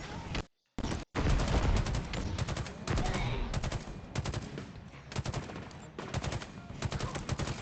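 Rapid bursts of enemy gunfire in the shooter game Halo Infinite, loud and near, crackling in dense volleys with only a brief gap near the start before the shooting resumes almost nonstop.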